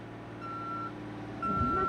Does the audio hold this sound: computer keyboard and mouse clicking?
no